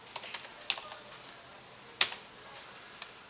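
A few sparse keystrokes on a computer keyboard while entering a layer name, quiet separate clicks with one sharper tap near the middle, no voices.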